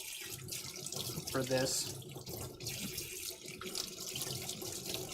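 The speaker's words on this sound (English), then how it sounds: "Rinse off our spatula." A kitchen tap runs steadily into a sink while a spatula is rinsed under it, with splashing shifts in the flow and a brief voice speaking over the water.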